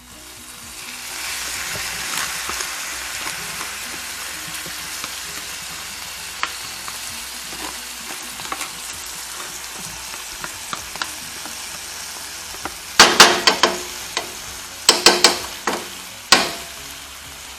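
Izote flowers sprinkled with salt fry in a pan, giving a steady, close sizzle throughout, with several louder crackling bursts and stirring scrapes toward the end.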